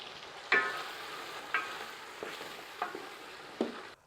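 Tomatoes fry in a pot as a cup of whipped yogurt goes in, with a faint hiss and about five distinct clanks of a spoon stirring against the metal, spaced roughly a second apart, then stopping.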